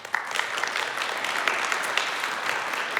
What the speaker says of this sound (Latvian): tā kā aplauss arī viņām.